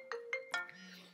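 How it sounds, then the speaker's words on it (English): A phone ringtone signals an incoming call with three short bright chimes in quick succession, then a sustained low tone, heard close and fairly quiet with no talking over it. "I'm getting a phone call, but I got to take this"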